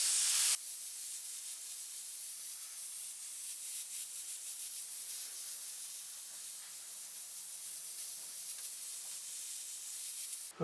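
An airbrush sprays transparent tint paint around edges, a steady, soft airy hiss running continuously at an even level close by, with no voices.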